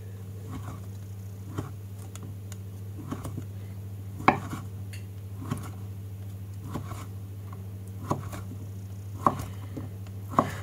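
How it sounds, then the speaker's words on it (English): A big kitchen knife slicing through hard-boiled potatoes for potato salad, sharp chops landing against a cutting board at irregular intervals over a low steady hum, with no voices. "So we are going to be continuing on cutting these potatoes up."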